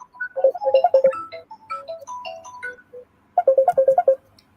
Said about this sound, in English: I think you need to terminate that call. Cut your phone off.